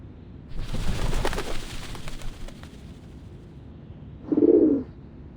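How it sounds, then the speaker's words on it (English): Doves cooing at the Whitestone House in the game Reverse 1999, a short soft burst of low warbling coos near the end, after a stretch of muffled rumbling ambience. "The doves of the Whitestone House are here."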